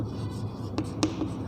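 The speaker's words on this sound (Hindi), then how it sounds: "या लिखेंगे आवृत्ति।" Chalk or marker writes on a board during a maths lesson. A few quiet, short strokes and taps sound close by over a low room hum.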